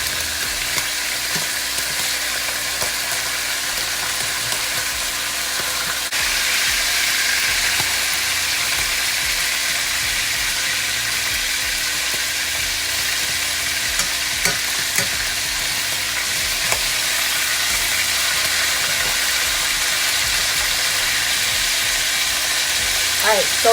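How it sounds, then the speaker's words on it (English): Saltfish fries in a pan with a steady, close sizzle and crackle that carries on throughout, with occasional soft clinks and a brief change partway through; no voices are heard. "we're going to go ahead and let the other side fry until it's golden brown, just like this"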